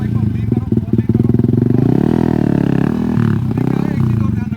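Motorcycle engine revving hard at a bike stunt academy in Delhi as the rider spins the bike with throttle; loud, sustained droning roar with rising and falling pitch, close by, with an instructor talking over it.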